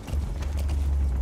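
Horse hooves clip-clop steadily on a road in Metal Gear Solid 5: The Phantom Pain, a continuous, fairly close galloping rhythm over a low rumble, with no voices.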